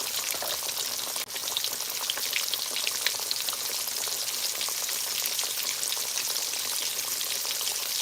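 Whiting fish fries in oil on a stove set to high, a loud, even, crackling sizzle that runs unbroken throughout with fine popping spatters and one brief knock near the start; no voices.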